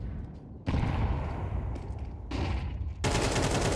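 Rapid bursts of automatic rifle fire in a Counter-Strike match, loud and close, with several sharp volleys separated by brief pauses.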